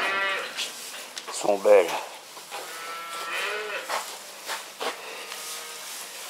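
Cattle on a farm of about 240 to 280 cows, mooing loudly once nearby among softer, more distant lows, under a voice speaking.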